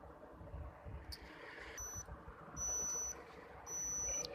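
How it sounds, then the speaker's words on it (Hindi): A digital thermometer gives three short, clear electronic beeps, evenly spaced, over a steady background hiss with faint room noise. "डिजिटल थर्मामीटर ने अपना टेम्परेचर ले लिया है, इसमें बीप की आवाज़ आ रही है"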